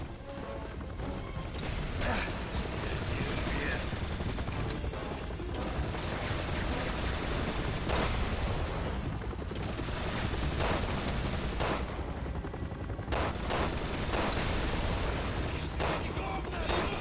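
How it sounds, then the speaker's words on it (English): Dense, continuous gunfire and crashing impacts from a Resident Evil 6 shootout, loud and busy throughout with bursts piling on each other and no clear pauses. "They were shooting at the thing shooting at me"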